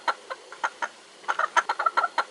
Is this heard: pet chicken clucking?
yes